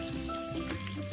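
Fish frying in very hot oil in a pot over a coal fire outdoors, a steady close sizzle and crackle with no talking.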